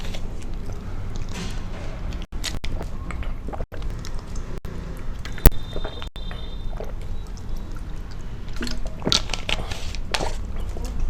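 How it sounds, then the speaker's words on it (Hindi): Water being sipped and swallowed, with small pours and drips of liquid, close and fairly soft, broken by a few sharp clicks and one brief knock. "थोड़ा सा पानी पी लेता हूं।"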